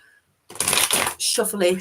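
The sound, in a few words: shuffling tarot cards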